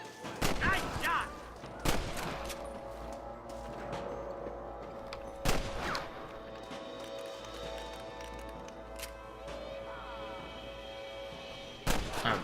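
Gunfire from the video game Red Dead Redemption: a handful of loud, sharp shots spaced over several seconds, with galloping hooves and game ambience running between them.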